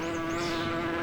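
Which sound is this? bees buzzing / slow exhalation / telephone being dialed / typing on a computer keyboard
bees buzzing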